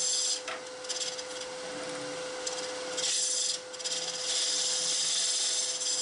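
A borrowed hollow-turning cutter scraping into spinning wood on a lathe, a continuous close rasping hiss that surges and drops in brief pauses, over a steady motor whine.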